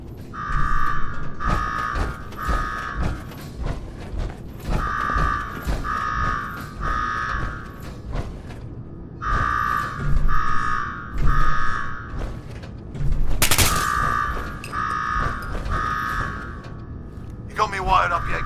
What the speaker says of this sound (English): Now go shut off that damn alarm.